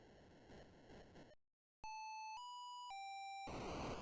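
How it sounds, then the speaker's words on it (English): A short chime from the Atari video game Star Raiders: three clear, sustained electronic tones in a stepped sequence, loud and alone after a brief silence, framed by noisy game sound. "There's the little chime from Star Raiders."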